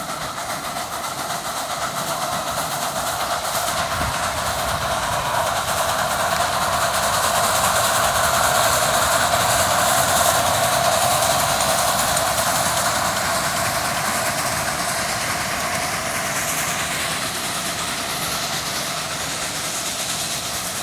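Train number 1 departing at a steam and power show, a steady loud rolling rumble with faint clickety-clack of railcars moving past, sustained without speech.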